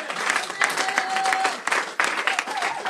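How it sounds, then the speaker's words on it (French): A church congregation at an Easter resurrection service applauds loudly for Jesus, dense steady clapping with a few cheers carrying through for a few seconds. "Nous allons acclamer très fort pour Jésus"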